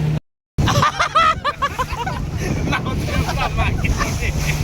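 Steady motor hum and gusting wind roar from an adventure motorboat ride on the sea off Pondicherry, with voices talking and shouting loudly over it near the start, after a brief dropout.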